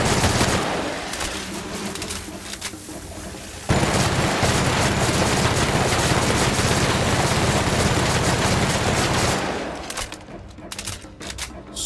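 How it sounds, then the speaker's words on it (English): Sustained heavy gunfire in The Outer Worlds, a loud, dense, unbroken barrage of rapid shots with bullets shredding, rising sharply partway through and easing near the end, with no talk over it. "So many bullets just shredding through."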